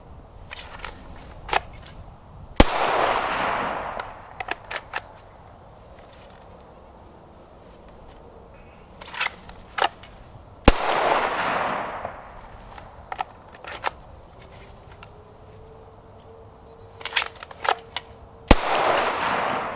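Three single handgun shots fired during a drawing-from-holster drill, spaced several seconds apart outdoors, each a sharp loud crack with a decaying echo, separated by quieter shuffling and handling noises.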